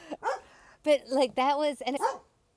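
Several dogs bark in short bursts indoors, their yapping mixed in with people talking over one another.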